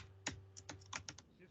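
Someone types a username on a computer keyboard, a quick burst of about eight crisp, close key clicks in an uneven rhythm.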